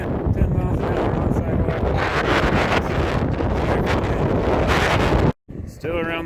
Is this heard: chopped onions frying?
no